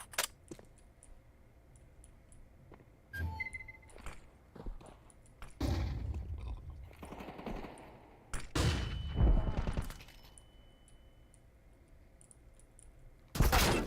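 Gunfire from an online team shooter game: sharp bursts of shots around 3, 5.5 and 8.5–10 seconds, with a loud final crack near the end, over a low steady game background and occasional clicks.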